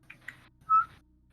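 A short, bright whistled note mimics a mechanical click, coming after two faint soft ticks in a quiet, brief moment with no speech.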